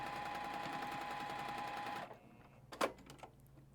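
Sewing machine stitching a fabric strip onto a quilted piece, a fast steady mechanical whir for two seconds that stops, followed by a brief clatter and quiet handling sounds.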